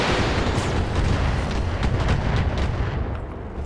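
Weapon fire at a Panther mech in the video game RogueTech: loud, dense booming bursts of artillery-like shots that roll continuously and fade slightly toward the end, with no talking.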